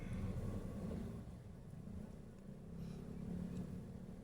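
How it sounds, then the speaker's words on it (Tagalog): Steady motor traffic rumbling by on a busy street at the Caloocan–Tondo boundary, e-trikes and fast motorbikes passing continuously with a low engine drone and no talk. "Ayan, napakarami ng e-trike dito mga kababayan."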